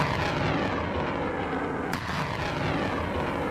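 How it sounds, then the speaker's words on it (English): A sustained, loud roar from HIMARS rocket launches fills the space, with a brief sharp crack partway through and the rumble running steadily throughout. "2 missiles were fired"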